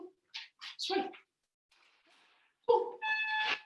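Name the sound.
dog whinging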